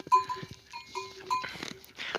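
A flock of Aure breed ewes bleats repeatedly in the open, several overlapping calls close by, with a faint clank among them and no talk.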